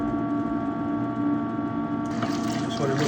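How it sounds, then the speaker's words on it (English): Water flushing through the heat exchanger of a Navien NCB-240 combi boiler during a descaling flush, a steady rushing pump-and-flow hiss that grows brighter and splashier near the end. "We're gonna let's let it cycle through and continuously flush out the heater core."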